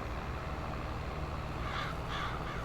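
Birds caw in the Farming Simulator 22 video game, two harsh calls in quick succession over a dense, steady background rumble.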